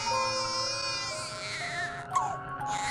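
A baby's small cry, sustained and wavering in pitch, comes through steadily and fairly close with no talk over it, part of a story set beneath a fruit tree where sisters are picking fruit.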